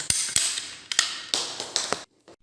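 A PEX pipe is trimmed evenly with a cutting tool: several sharp clicks and snapping cuts in an uneven rhythm, each followed by a brief creaking squeeze, close and fairly loud with no talking.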